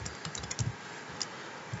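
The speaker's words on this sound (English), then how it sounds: "So let's type in some more code." Computer keyboard keys clatter as code is typed, a close, fairly soft, irregular run of quick clicks with a few heavier strokes and no talk.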